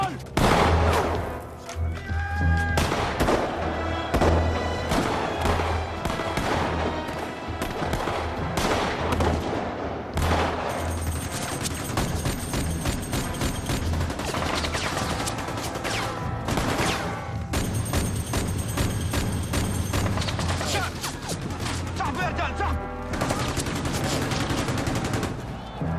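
Machine gun fire rattles in dense rapid bursts throughout a battle reenactment, with overlapping gunshots, booms and music-like tones underneath and occasional shouting voices mixed in.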